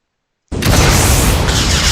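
Explosive weapon hit in the game Meteoric, fired from a shotgun: a sudden loud blast breaks out of silence and carries on as a dense, roaring rumble of debris with no voices.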